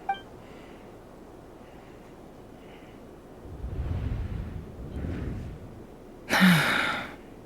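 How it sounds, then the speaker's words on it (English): A sharp, breathy intake of air bursts out near the end after quieter rushing breaths and soft ambient rumble, a character's gasp in Genshin Impact. "I heard Yehuda gasp"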